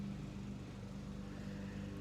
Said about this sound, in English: listen to the lawnmower sound